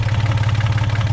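A Volvo Penta MD2030 marine diesel on a boat runs at a steady idle, a close, even low throb with a regular pulsing beat and no other sounds.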